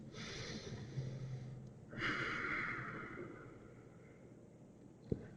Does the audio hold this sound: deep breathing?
yes